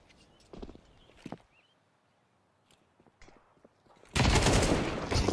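Counter-Strike 2 match sound with sharp gunshot cracks and footsteps among sparse quiet moments, followed by a sudden loud, sustained burst of noise near the end.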